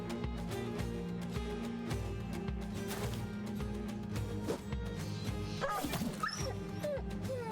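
Dog whimpering in the battle game Battle Brothers, short yips and whines under continuous game music and combat noise.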